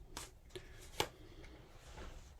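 Tarot cards being shuffled during a reading, a few soft, brief riffling and tapping bursts, faint and close, with no talk.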